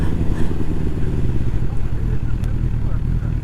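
Motorcycle coming up from behind on a back road, a steady loud engine drone filling the low end throughout, with some rattling clatter mixed in.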